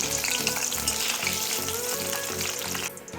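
Sliced onion dropped into hot oil left from frying raisins for egg biryani sizzles and crackles steadily, close and continuous, with no talking.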